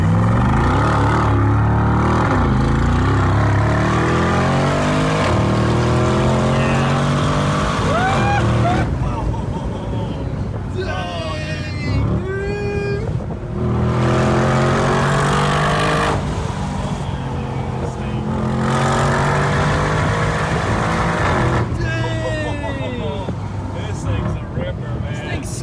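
A 2022 Mercedes G63 G Wagon SUV engine revving and accelerating hard as it takes off, a loud rising roar with shifting pitch under almost constant excited talk from people inside.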